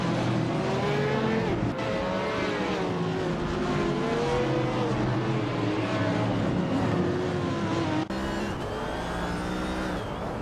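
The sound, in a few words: race cars in a racing video game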